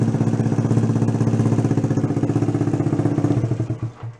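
A Honda Trail 90 motorcycle, stored unused for 37 years, runs with a steady, loud single-cylinder chug and a rapid even pulse, then sputters and dies out near the end when it is killed.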